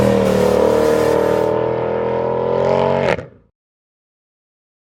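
A 2012 Mercedes-Benz C63 AMG V8 revs loud and close in a sustained, steady roar that cuts off abruptly and then falls silent.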